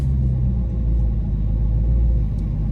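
A Dodge Charger Hellcat engine rumbles deep and loud at close range, a steady heavy drone with no clear rev peaks and no audible tire squeal.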